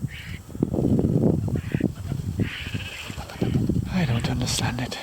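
Geese honking repeatedly at close range while they eat lettuce on a small five-acre farm, the calls mixed with someone talking over them.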